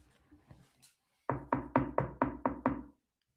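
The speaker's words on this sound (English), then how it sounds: "but I can knock on the chair" Seven quick, evenly spaced knocks on a chair, close and fairly loud, following a few faint earlier taps, with no talking over them.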